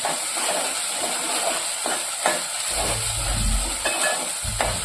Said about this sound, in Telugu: ఇలా కొంచెం ఆయిల్ వేగినాక ఇప్పుడు టమాటాలు వేసేస్తా